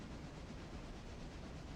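Heavy freight train in the Railroader video game hauling a heavy load up a gradient, a steady dense rumble of wheels on rails without clear breaks, loud and continuous.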